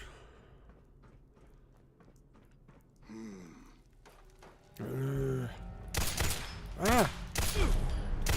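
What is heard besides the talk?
gunfire from the Fallout 4 video game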